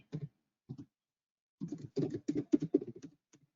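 Quick clattering keystrokes on a computer keyboard while an OR operator is typed, with a short tap, a pause, then a dense run of key presses that trails off, close and clear with no voices.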